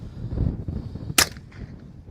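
A single sharp, close gunshot from a Smith & Wesson M&P 15-22 rifle firing .22 rounds at a shooting range, a crisp crack that quickly fades amid quiet background noise.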